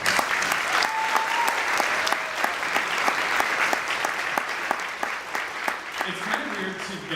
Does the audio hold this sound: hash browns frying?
no